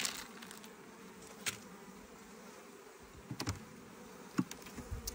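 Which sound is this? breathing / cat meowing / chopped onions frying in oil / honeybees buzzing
honeybees buzzing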